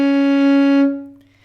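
A single sustained violin C sharp played on the G string, steady and clear for most of a second, then fading away.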